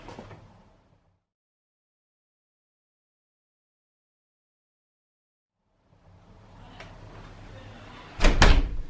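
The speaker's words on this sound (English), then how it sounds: "take the thumb turn here, push, twist, and open the door" A smart lock's thumb turn is twisted and a door is opened: a faint click and rustle at the start, a long silence, then handling noise building to a sharp, loud clunk of the latch and door near the end.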